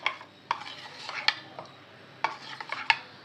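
A milk mixture for fruit salad being stirred with a spoon in a bowl, giving scattered clinks and scrapes against the side, close and fairly quiet, with no talking.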